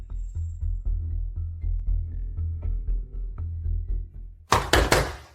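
A run of dull, evenly spaced knocks on a door, moderately close, repeating steadily for several seconds before a sharper, louder burst of thumps near the end.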